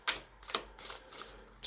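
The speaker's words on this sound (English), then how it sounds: "Just going to give them a little bit more of a shuffle." Shamanic Medicine oracle cards being shuffled by hand, a series of quick papery riffles and flicks in a close, quiet room, several short bursts in succession.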